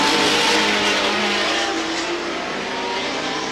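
Race cars roar around the oval at Star Speedway during a 1990 event, a loud, dense engine drone with cars bunched nose to tail, holding steady and easing slightly toward the end.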